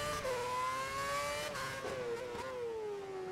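Race car engine in F1 2011 at the Singapore circuit during qualifying, a steady high whine that rises and dips with gear changes and throttle, loud and continuous throughout with no talk.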